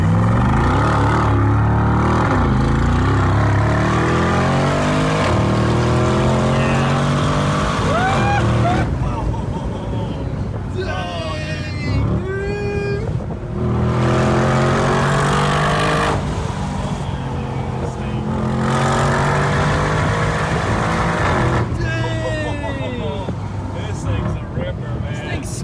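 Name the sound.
Mercedes G63 G Wagon SUV engine accelerating as it takes off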